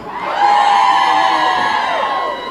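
Women in a comedy club audience scream together in a loud, sustained wave of high-pitched shrieking and whooping that swells and holds for a couple of seconds.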